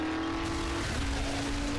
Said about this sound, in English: this is a supercharged monster truck with a zombie plow on the front